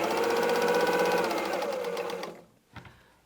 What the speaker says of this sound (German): Das nähen wir auf allen 4 Seiten ein.